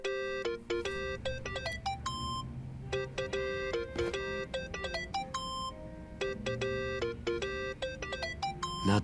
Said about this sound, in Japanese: 鳴ってるよ、電話。